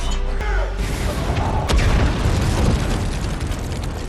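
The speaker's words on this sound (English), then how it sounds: "they explode a bomb and both die" A bomb detonates in a superhero action film, a loud low boom with a sharp crack near the start, then rumbling debris and roaring blast noise filling the whole stretch.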